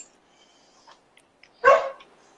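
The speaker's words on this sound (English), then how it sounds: "They are a rowdy bunch of dogs." A rowdy pack of dogs gives one sharp, fairly close bark after a few faint yips and rustles, with quiet background between sounds.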